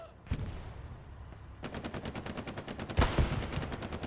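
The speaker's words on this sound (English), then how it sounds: "Tank fight going on." Gunfire from a tank fight in the online war game Hell Let Loose: a single report, then sustained rapid machine-gun bursts with a heavy thump among them, fairly distant and booming over steady battlefield din.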